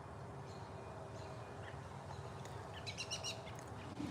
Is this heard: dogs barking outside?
no